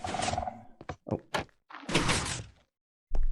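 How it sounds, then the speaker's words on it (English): A Minecraft sculk sensor triggers and a door opens: a series of close thunks and taps, then a longer sliding rush and a final heavy thud after a short silence. "hear the skulk sensor go off, the door opens"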